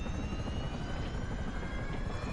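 Steady whirring rotor drone of a helicopter in a video game vehicle glitch session, loud and continuous throughout, with no voices.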